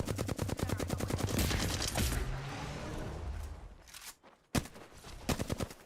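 Rapid bursts of automatic gunfire in the battle-royale game Apex Legends, with loud, dense volleys for the first few seconds that thin into sparser, scattered shots and a sharp crack near the end.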